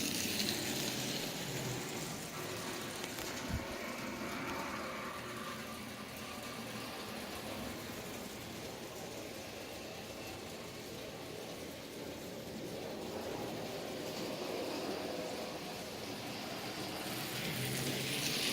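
A Marx toy train's electric motor hums and rattles steadily around the track, a continuous close whirring with clicking wheel noise that swells and fades slightly as the locomotive circles.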